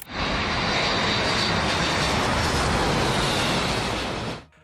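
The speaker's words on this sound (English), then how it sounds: "residents of Nashville, Tennessee were taken aback when they witnessed a military plane flying remarkably close to the ground" A military plane flying low over Nashville, Tennessee, close to building tops, produces a loud, continuous engine roar that holds steady for several seconds before dropping away sharply.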